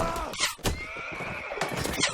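A horse whinnies in a team-based multiplayer game match, a bright neigh rising above dense battle noise with hoof clatter and a continuous high whine, moderately loud throughout.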